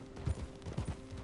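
A horse is ridden in Red Dead Redemption 2, its hooves falling in a soft, rhythmic clip-clop at a steady gait, close and fairly quiet.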